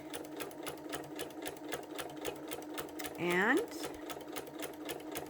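A sewing machine quilting through fabric with a walking foot runs in a fast, steady stitching rhythm, close by, while a person talks briefly over it and a short squeak rises midway.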